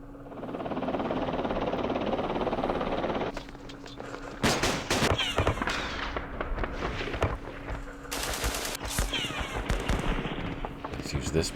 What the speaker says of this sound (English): Let's target this machine gun